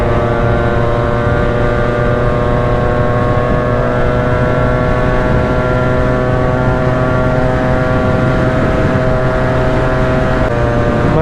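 Yamaha RX two-stroke motorcycle engine under way on a ride, a loud close steady buzzing drone with strong harmonic tone held throughout, slight rise in pitch, no talk.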